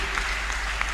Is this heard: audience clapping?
yes